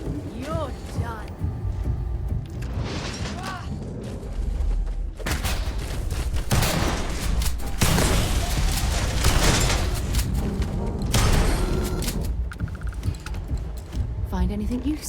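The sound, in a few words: shotgun fire in a video game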